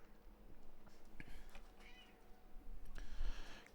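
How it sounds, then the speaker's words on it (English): A pet cat meows and yowls in agitated, drawn-out cries, several calls in a row at close range, over low steady background rumble from an indoor room. "Cat is freaking out for some unknown reason."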